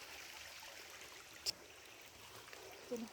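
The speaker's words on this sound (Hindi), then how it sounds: "पीछे ही नदी है" A river flows nearby outdoors, a faint steady wash of running water with an occasional small click, distant and low.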